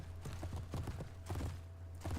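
Faint, quick clopping of horses' hooves at a gallop in a Mount & Blade: Warband battle, irregular soft thuds over a steady low rumble of background noise.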